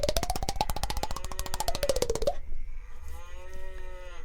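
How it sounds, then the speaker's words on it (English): Drawn-out cow moos in a radio studio, two long lowing calls one after another, loud and close with a rough rhythmic pulse in the first and a smoother tone in the second, with no talk over them. "If anyone can hear that, we've got a cow in the studio."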